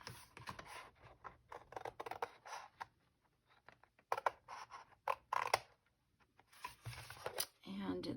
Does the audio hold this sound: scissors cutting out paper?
yes